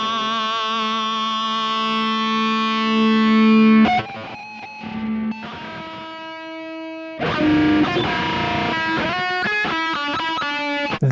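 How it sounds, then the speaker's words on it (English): Electric guitar with a Floyd Rose tremolo plays a sustained distorted chord, then the A string snaps; the tremolo shifts and the held notes slide out of tune into a detuned, warbling jumble, loud and close. "When you break the A string, it sounds like this."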